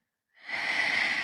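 A deep breath drawn in slowly, airy and steady, swelling in from silence to a sustained hiss close to the ear during a calm meditation.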